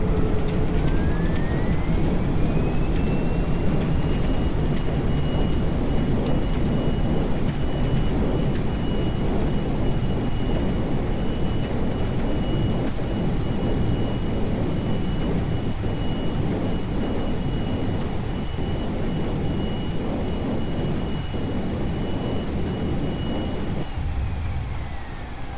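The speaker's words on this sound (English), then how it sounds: "Okay, reversers are out." Thrust reversers on a Boeing 737 (IXEG 737 in X-Plane) roar after a hard landing at Christchurch International, a loud, sustained broadband jet rumble with a rising then steady whine that holds for over twenty seconds before easing off, no talking.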